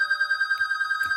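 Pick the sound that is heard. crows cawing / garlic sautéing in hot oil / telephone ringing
telephone ringing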